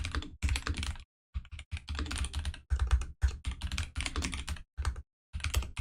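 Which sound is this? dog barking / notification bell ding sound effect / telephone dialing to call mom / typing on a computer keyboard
typing on a computer keyboard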